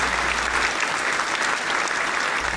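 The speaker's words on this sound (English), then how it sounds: "We'll hit the clapping again." A burst of studio applause played as a sound effect: dense, even clapping that holds steady at moderate volume for a couple of seconds with no voices over it.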